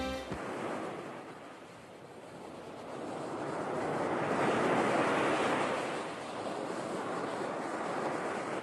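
Sea waves washing onto the shore near Playita, a continuous broad roar of surf that swells and recedes slowly, with wind buffeting the microphone.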